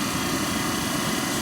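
The defrost fan motor of a GM 4106 bus runs on its low setting with a steady, even whirring drone that holds without change, close and moderately loud.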